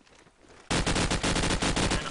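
Dense rapid gunfire erupts suddenly in a competitive video game match, loud sustained bursts after a quieter start.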